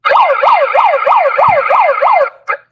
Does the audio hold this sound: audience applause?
no